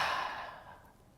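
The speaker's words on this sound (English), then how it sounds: "open the mouth wide, stick the tongue out, take a deep breath out" One forceful, breathy exhale through a wide-open mouth with the tongue out during a yoga session, loud at first and tapering off over about a second.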